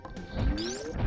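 In Super Metroid, the glass of the Meridian Tube shatters: a short, crisp crash with a rising whoosh and bright ringing sweep, lasting about a second and heard alone.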